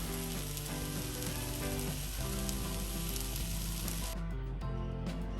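An omelet mixture fries in a buttered skillet with a steady, crackling sizzle over several seconds, heard alongside tonal background music.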